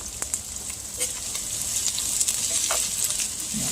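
Chopped peppers and vegetables sweat in a hot pan for Spanish rice, giving a soft, steady sizzle with scattered faint pops and crackles, quiet and close.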